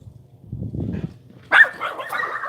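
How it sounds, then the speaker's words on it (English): Several farm dogs bark in a burst, loud and close, after a quieter stretch of low rumbling; the yips and barks continue densely to the end. "Those dogs. They just love barking."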